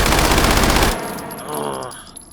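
A virtual Uzi fires on full auto in the VR shooter H3VR: a loud, dense burst of rapid shots for about a second, then a metallic ringing tail and mechanical rattles as the firing stops.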